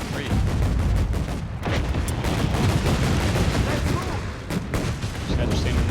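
Battlefield gunfire in the World War II strategy game Company of Heroes 3, a dense run of loud cracks and booms overlapping one another, with rifle and artillery-like blasts crowding the whole stretch.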